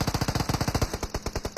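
Rapid, loud automatic gunfire in a battle royale video game, a steady fast string of close shots in a regular rhythm lasting the whole moment.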